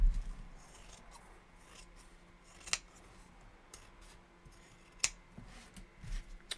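Scissors cutting down a cover for a Coptic-bound journal: a quiet, continuous rasp of blades through material, with a few sharp snips standing out, close and alone.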